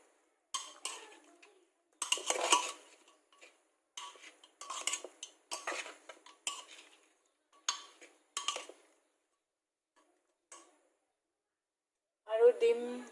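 Chopped large onions and medium tomatoes are mixed in a bowl, giving bursts of clinking and scraping in an irregular rhythm, close and fairly loud, with a short spoken remark at the end.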